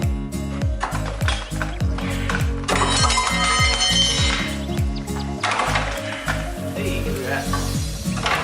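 A ratchet works loose the rear suspension bolts on a 1998 Mustang GT during a lowering-spring install, with loud, continuous rapid clicking and metallic whirring close by.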